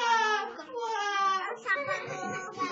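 A storyteller's voice imitates a little fish crying loudly, a wailing, sobbing cry with rising and falling pitch that runs nearly continuously for under three seconds.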